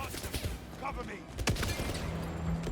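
Gunfire in the video game 007 First Light, a burst of sharp shots and a loud crack near the middle, mixed with game sound and background chatter.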